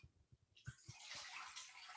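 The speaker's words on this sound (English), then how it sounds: "we put some water in the pan" Water pours and sloshes steadily into a cooking pan for risotto stock, a continuous splashing rush following a few soft knocks, close and alone.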